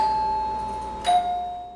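A doorbell rings out clearly with a sustained electronic tone, then shifts to a second, lower tone in a ding-dong pattern. The chime rings alone in a quiet room.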